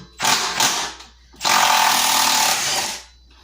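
A Milwaukee Fuel stubby impact wrench drives a lag bolt into wood, firing two short rattling hammer bursts and then one longer sustained run of rapid clattering impacts, loud and close.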